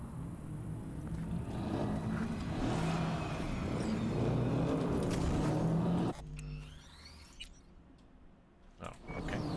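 Car engines revving hard together at the start of a race in Cyberpunk 2077, a loud sustained roar for several seconds that cuts off abruptly into quieter engine hum and scattered game sounds.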